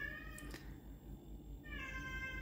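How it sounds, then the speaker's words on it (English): A pet cat named Rodney meows close by, with a couple of drawn-out, tonal calls over a soft background hum during a crochet session at home. "Here comes my cat."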